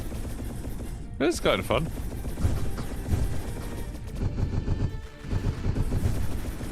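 Shots ring out in a video game shooter, scattered bursts of gunfire and impacts under a player's voice, with bits of in-game sound between the shots.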